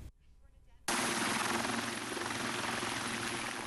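A national security helicopter flies across a northern mountain ridge toward a secluded bay, its loud, close rotor thudding and engine roar cutting in abruptly after a quiet start and continuing steadily.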